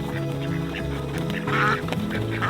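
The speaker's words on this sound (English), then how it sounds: "we're down here by our pond ducks" Ducks quack repeatedly by a backyard pond near a coop, a busy overlapping chorus of nasal calls at close range with a louder burst partway through.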